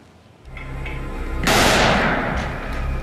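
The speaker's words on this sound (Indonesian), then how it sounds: "merilis rekaman para pejuangnya menargetkan pasukan Israel dan kendaraan militer menggunakan peluru mortir" Mortar fire from fighters targeting Israeli forces in Khan Yunis: a single loud, close blast bursts out and rolls on in a broad roar over steady background rumble.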